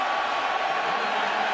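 Stadium crowd at the Iowa State vs Iowa college football game, a dense, steady roar of thousands of fans sustained at full volume throughout, with no individual voices standing out.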